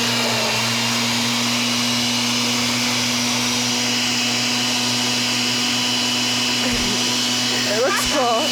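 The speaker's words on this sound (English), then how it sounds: "Okay, so we're just gonna give that a blend." Countertop blender whirring steadily on its smoothie setting while blending a cocktail, a loud continuous motor drone that holds throughout, with a brief voice near the end.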